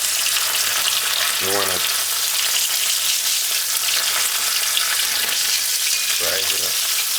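Red snapper fish fries in a pan with a loud, steady sizzle and crackle throughout, as someone speaks briefly over it twice.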